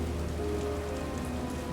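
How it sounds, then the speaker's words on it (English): Steady, dense rainfall pattering on a surface, used as a blood-rain storm effect in a tabletop fantasy game, even and continuous throughout with no voices. "The red storm comes, the sky turns, it rains blood."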